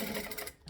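A sewing machine stitches along the folded-over edges of a short bag handle strap, a quick continuous mechanical whir that slows and stops near the end.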